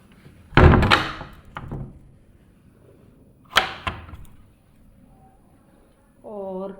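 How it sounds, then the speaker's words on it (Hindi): A door being shut in a home, a few thumps and knocks with a solid closing hit near the middle, alongside brief handling noises and a faint tonal sound at the end. "इस तरफ का दरवाज़ा बंद कर देता हूँ"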